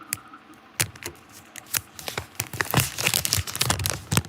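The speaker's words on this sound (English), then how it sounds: "Listen to the sweet sounds of the plastic unwrap." Crisp plastic wrap is peeled and crinkled off a new OnePlus Nord phone, close up, in irregular rustling bursts that grow busier and denser toward the end, with no talking.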